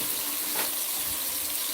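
Tap water runs steadily from a kitchen faucet into a sink while vegetables are rinsed for a morning wellness juice, a continuous close splashing hiss with no voices.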